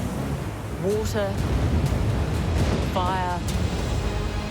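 Waves and surf wash in a steady, loud roar, with two short whistling or squealing sounds rising above the rushing water.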